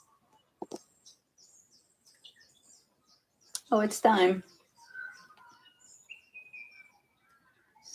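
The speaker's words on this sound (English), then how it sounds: "maybe we can keep the birds chirping" Birds outside give scattered thin chirps and tweets, faint and intermittent, against near silence, with someone briefly speaking in the middle.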